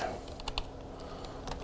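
Code being typed on a computer keyboard, a quick run of soft key clicks over low room hum, close and quiet.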